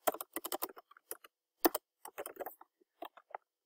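Rapid typing on a computer keyboard, bursts of close, crisp key clicks with short pauses between runs, heard alone without talk.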